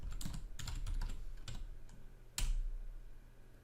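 Keys clatter on a computer keyboard as a Linux command is typed, a quick run of close, crisp taps with one sharper, louder keystroke near the end and no talking.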